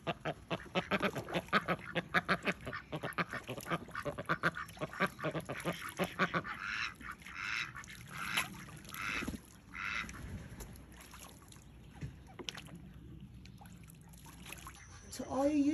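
A duck, fitted with a homemade boot, quacks in a run of rapid, loud nasal calls that fade into scattered softer quacks and background trickling, with a voice speaking at times.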